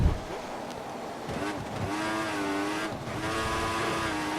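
Car tires slide and squeal on worn rubber in the F1 2014 racing game, a steady engine drone with a wavering screech rising over it for several seconds.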